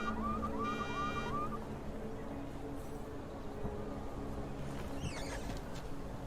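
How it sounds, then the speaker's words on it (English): A car alarm blares in the video game Deus Ex: Mankind Divided, a rising and falling electronic wail that sounds for about a second and a half, then gives way to loud, dense city ambience with brief electronic tones. "Now you caused one of them to activate the alarm."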